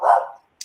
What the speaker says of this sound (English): Somebody got a dog?